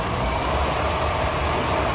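A car engine, in first gear during a pressure line test, is given gas and brought up to 2,000 rpm, producing a loud, steady droning rumble with no talking.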